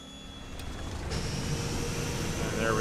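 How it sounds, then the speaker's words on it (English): A Douglas DC-3 radial engine starting in a flight simulator game on an airfield, a steady rising mechanical roar that builds and thickens over a few seconds, loud and continuous. "Good start on that engine."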